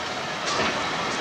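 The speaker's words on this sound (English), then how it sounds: "Stop the train there." A train runs on a David Lean film set, a steady, close rumbling roar that holds fairly even for the whole moment and swells slightly midway.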